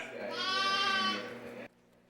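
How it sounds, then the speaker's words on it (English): A newborn lamb, only days old, lets out a single close, clear, wavering bleat lasting about a second and a half, followed by quiet. "Some of these lambs are mere days old."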